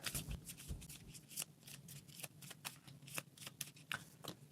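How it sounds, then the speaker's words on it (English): A deck of playing cards is riffle-shuffled during a solo board game at a table, giving quiet, close bursts of fluttering card snaps and soft taps repeated in quick succession with no talking. "I got to shuffle."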